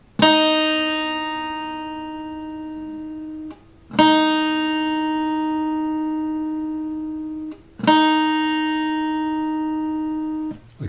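A single guitar string, the top E tuned down to E flat, plucked three times, each note ringing out clearly with a bright sharp attack and a long even sustain before the next pluck, close and alone.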